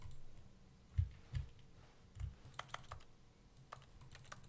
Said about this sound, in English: I can click my keyboard anywhere now.